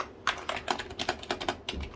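Steady keystrokes clack on a cheap wired Computer Specialist KB-G100+ UK keyboard, a close, even run of light plasticky taps with no voice over them.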